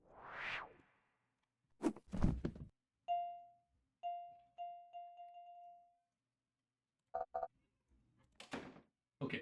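A door-shutting exit effect from the Word Sleuth game: a rising whoosh, a couple of thuds, then a series of clear chime tones fading one after another, followed by brief clacks and another thump near the end.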